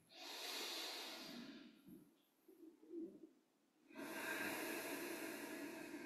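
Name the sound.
yoga breathing directed into the sinuses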